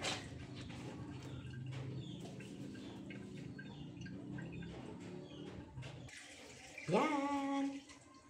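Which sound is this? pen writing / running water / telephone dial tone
running water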